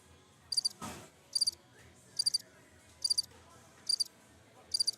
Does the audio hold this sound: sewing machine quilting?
no